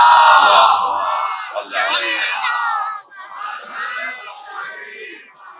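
A large crowd loudly recites salawat in unison at a religious gathering, a roaring collective chant of many voices rising and falling across several phrases, with no other sound.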